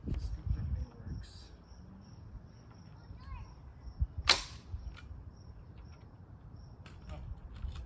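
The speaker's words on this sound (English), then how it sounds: "so I guess the staple gun works" A staple gun fires staples into carpet during a DIY backseat platform build in a 2022+ Toyota Tundra, giving one sharp, loud snap amid quiet rustling and handling noise.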